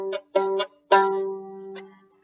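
Violin G string sounded several times with short bow strokes followed by one longer sustained low note, warm and close, with no talking.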